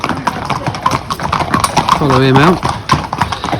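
A racehorse's hooves clip-clop in a steady rhythm as it is walked out on a yard surface, with a brief whinny in the middle and a person speaking over the steps.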